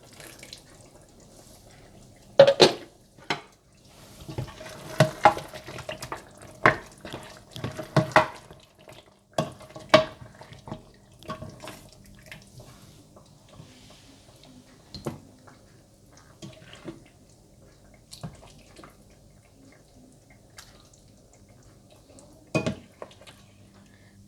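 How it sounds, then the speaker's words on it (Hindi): Rogan josh is ladled from a pot into a serving dish, with scattered clinks and scrapes of a spoon against metal and ceramic and occasional louder knocks, spread irregularly over a quiet kitchen. "रोगन जोश तैयार है और अब इसे मैं सर्विंग डिश में निकाल लूँगी"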